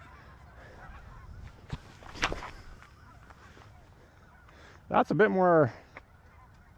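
A goose honks in a short burst of harsh calls outdoors, close by, after a few faint thumps and a brief spoken remark.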